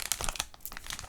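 A One Piece card booster pack is torn open by hand along its easy-open side, a quick series of close crinkling and ripping sounds from the foil wrapper.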